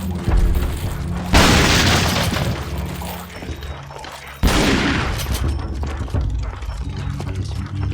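Loud gunfire in the Resident Evil 4 Separate Ways video game, with two sharp broadband blasts at about 1.3 and 4.4 seconds, each followed by a long ringing decay over a busy game background.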